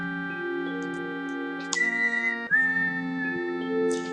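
A person whistles a favourite Final Fantasy 7 tune near the microphone, steady melodic notes held and sliding between pitches, with faint clicks and ticks in the background and no talking.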